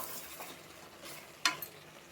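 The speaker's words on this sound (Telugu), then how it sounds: "టమాటా ముక్కలు వేసి కూడా మంచిగా కలపండి." Soft stirring and faint sizzling as tomato pieces are mixed into a simmering mutton curry, with a brief sharp scrape of a utensil against the pan midway; quiet and close.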